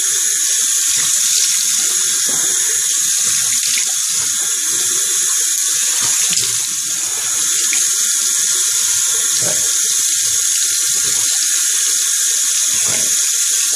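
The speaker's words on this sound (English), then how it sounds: "I'm going to rinse." Tap water runs steadily into a sink while a face is rinsed after shaving, a loud continuous close hiss with faint splashes and hand movements beneath it and no talking.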